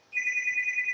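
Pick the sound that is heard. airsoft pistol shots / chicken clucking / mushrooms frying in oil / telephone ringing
telephone ringing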